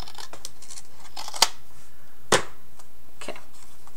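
Scissors snipping a folded book page, two crisp cuts a second apart with faint paper rustles around them, close and without talk.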